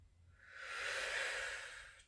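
A single long, breathy exhale during a yoga class, close and soft, swelling and fading over about two seconds with no talking.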